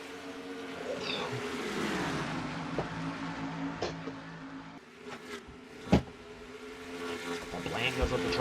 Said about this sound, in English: Eric Sadler and Austin LaPlante side by side, the 23 and 9 cars